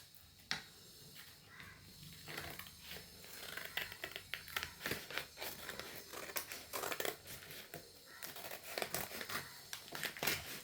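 A birthday decoration kit package bought online is unboxed close by, with continuous plastic crinkling, tearing and rustling marked by sharp snapping clicks, moderately quiet and without speech.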